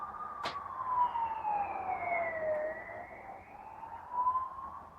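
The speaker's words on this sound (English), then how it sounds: "That was an undercover police car." An undercover police car siren wails in a slow rising and falling tone, steady and moderately close, with a brief sharp click near the start.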